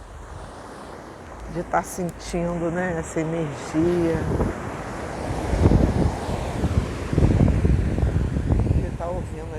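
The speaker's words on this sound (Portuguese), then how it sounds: "de estar ouvindo esse som, né, das ondas" Ocean waves break on a Brazilian beach of cold water, a steady rushing wash of surf and wind running under a person talking close by throughout.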